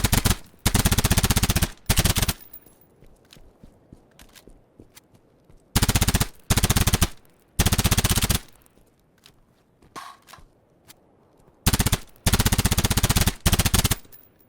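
Bursts of MP7 submachine gun fire from the hip in a shooter game under development, several loud full-auto strings separated by quiet gaps, no voices.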